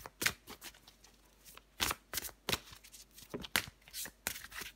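Tarot cards shuffled and drawn by hand, a close series of irregular crisp flicks and snaps with short pauses between, fairly soft and without talking.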